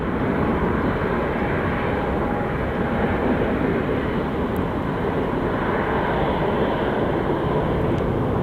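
American Airlines jet taking off at Phoenix Sky Harbor, a loud, steady roar of jet engines with broadband rumble sustained throughout, heard from nearby.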